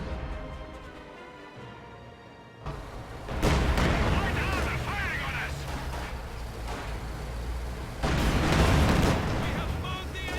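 Su-85 tank gun firing in a video game: heavy booming blasts with long rumbling decay amid ongoing battle noise, loud and close, with a person talking over the action.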